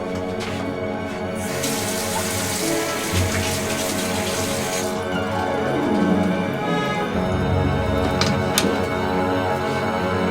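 A tap runs steadily into a sink for someone washing their face at home, a continuous close hiss and splash with shifting pitch as the flow changes.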